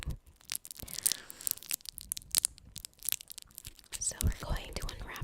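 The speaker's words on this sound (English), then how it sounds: "the sounds of the candy wrapper being unwrapped" Close crinkling and tearing of a hard candy wrapper as it is unwrapped, with bursts of crisp plastic crackle, soft rustling and a few faint whispers in between. It is intimate and near.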